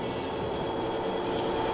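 A train rolls steadily along the rails in the racing game X-Treme Express, a constant rumbling clatter with a faint tonal hum and no voices.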